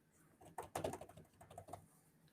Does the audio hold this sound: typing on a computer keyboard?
yes